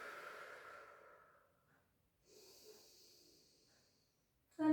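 Soft, airy exhales during a Pilates exercise for lower back strength, with one long breath out fading to silence, then a short second breath and a brief sharp sound at the very end.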